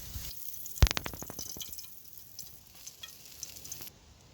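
A thick steak sizzles as it cooks outdoors in the Tasmanian backcountry, giving a faint, steady crackle with a sharp clatter near the start and scattered soft pops after.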